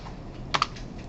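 A couple of quick keystrokes tapped on a computer keyboard in a lecture setting, two close clicks standing out faintly against a quiet room hum.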